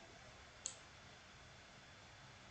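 A single crisp computer mouse click while working in Scratch, brief and fairly soft, set against a faint steady background hiss with no speech.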